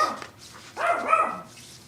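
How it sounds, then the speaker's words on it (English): A pet dog gives a single short, moderately close bark in an otherwise quiet room, followed by faint whimpering tones. "And my dog wants to get down on this."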